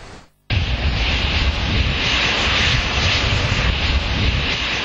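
Aircraft engine roaring loud and steady at close range after a brief quiet start, as the French Prime Minister's plane arrives in Niamey, Niger.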